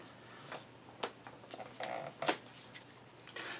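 Playing cards in a Digimon card game slide and snap as they are drawn and handled, giving a run of short, crisp flicks and shuffles at close range.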